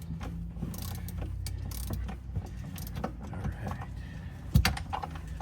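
Tools clicking and ratcheting while the back screws come out of a seat in a 2019 two-door Jeep Wrangler Sport, with irregular close metallic ticks and scrapes and one sharper knock near the end.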